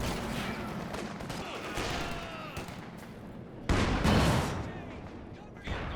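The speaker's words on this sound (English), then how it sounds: "The squad can't afford to sit there under that Garand fire." M1 Garand rifle fire in the Company of Heroes 2 video game, sharp repeated shots and bursts of battle noise with a louder stretch of gunfire near the end, under steady game ambience.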